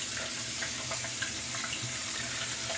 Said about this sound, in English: Let's get the cold water going.